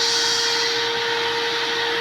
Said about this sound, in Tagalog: nagba-vacuum yung mama ko dito sa kwarto namin